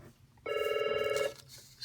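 A single short electronic telephone ring sounds clearly for under a second in a quiet room, with faint background noise before and after.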